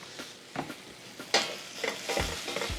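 Vegetables sauté in oil in a pan for a miso mushroom farro dish, a steady soft sizzle broken by several scraping stirs and clanks of a utensil against the pan, close and moderately loud, with no talking.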